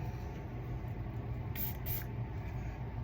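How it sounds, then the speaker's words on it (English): Fenty setting spray gives two short, soft hissing spritzes in quick succession, faint over a low steady room hum. "We're just gonna use the Fenty setting spray and call this good."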